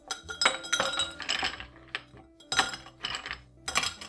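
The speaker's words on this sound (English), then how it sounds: "let's get some ice in our glass" Ice cubes dropped into a cocktail glass, clinking loudly and close in several bright bursts with short pauses between them.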